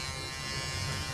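A man imitating an electric razor with his voice, mimicking a comic character shaving: a steady, low buzzing drone held continuously for about a second, fairly quiet and without clear words.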